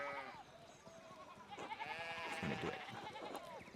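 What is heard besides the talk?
sheep bleating in the video game Pentiment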